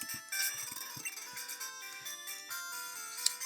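A phone ringtone plays in the Pokemon Pyrite video game, a bright looping electronic melody of stepped tones, steady and fairly loud with no voices.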